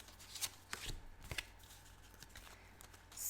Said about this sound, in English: I draw 3 cards that I feel most drawn to.